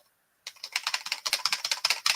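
Rapid, uneven keystrokes clatter on a computer keyboard, close and fairly loud, starting abruptly after a short silence and running continuously to the end.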